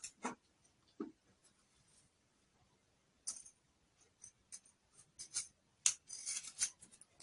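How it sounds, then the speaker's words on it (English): Scissors snip through a paper blouse pattern, trimming its thick side edge. The cuts come as quiet, scattered snips with long pauses, then bunch into a quicker run of cutting near the end. "I want to cut the thickness of this side off"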